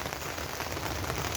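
Steady rain patters on the plastic cover of a garden polytunnel, a continuous close hiss with faint drumming that stays even throughout, with no voices.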